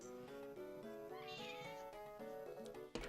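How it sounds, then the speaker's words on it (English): A cat meows in a long, drawn-out wavering call made of several connected tones, ending with a short sharp noise, heard faintly. "The cat has returned."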